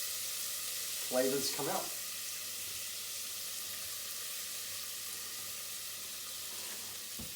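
Harissa paste and spices sizzle and get stirred in a pan for a soup, a quiet steady sizzle with a brief scraping stir burst early on, under a voice.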